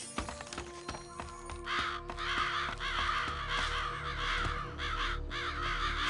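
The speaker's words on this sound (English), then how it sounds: "Bunch of crows." A group of crows caws repeatedly in the video game Psychonauts, harsh calls layered over a steady game ambience with some mechanical tones, moderately loud and continuous.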